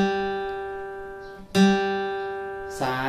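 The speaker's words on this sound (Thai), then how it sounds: "สาย3เสียง G ครับผม" An open G string, the third string of a guitar, plucked during tuning, its steady sustained note ringing out alone, then struck again near the middle of the clip before another pluck at the end.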